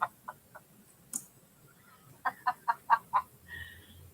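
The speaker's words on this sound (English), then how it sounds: "Chicken." A chicken gives a few soft clucks, then a quick run of five louder, rhythmic clucks, close by in a quiet setting with a brief noise in between.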